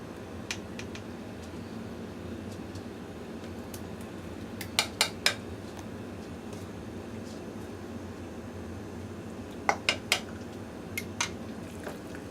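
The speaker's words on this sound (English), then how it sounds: "she's just going to mash those up into applesauce" Cooked apples being mashed into homemade applesauce in a pot, with sharp clinks and scrapes of a utensil against the pot arriving in small clustered bursts over a steady low room hum; no talking.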